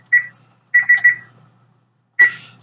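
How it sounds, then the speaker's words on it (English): A kitchen timer set for taco shells goes off in sharp electronic beeps, one, then a quick run of three, then one more after a pause, loud and near with no talking. "Alright, that is the timer for the shells."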